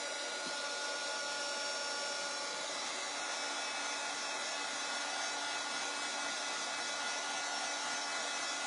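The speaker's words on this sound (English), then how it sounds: "we'll sand it down just a little bit" A winter two-tiered tray is sanded down with a power sander, a steady, even whirring hiss that runs unbroken and fairly faint throughout, with nobody talking.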